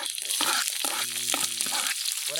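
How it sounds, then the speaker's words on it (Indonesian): Indian onions fry in hot oil in a pan at a rainy forest campsite, giving a loud, close, crackling sizzle that swells and settles steadily throughout. "Goreng apa tuh? Bawang."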